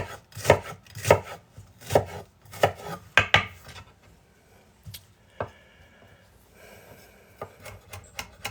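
A knife chops an onion on a board: six or so steady, evenly spaced thuds, then scattered lighter cuts and scrapes, close and clear.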